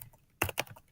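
Keys tap on a Chromebook keyboard, two or three quick close clicks within a second, quiet and alone.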